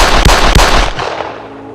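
Loud, close gunfire: a couple of sharp, heavy shots fired in rapid succession, ending in a booming echo that decays away.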